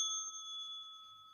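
A clear, bright notification bell chime rings once and sustains for over a second, fairly faint and with no talk over it.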